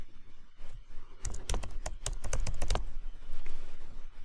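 Fast clatter of keys as new text is typed on a computer keyboard, a quick run of close, crisp taps followed by softer keystrokes and faint room noise.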